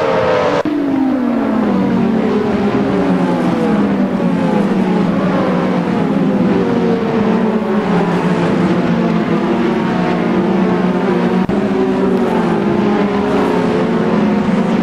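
Lotus 98T racing cars at Spa scream past in a loud, continuous engine drone whose pitch sweeps down and rises again as the cars shift and pass, with no voices over it.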